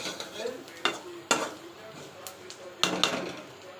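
A spatula stirs potato and onion fry in a pan in bursts of scraping and clatter over a soft sizzle, with a voice talking between the strokes.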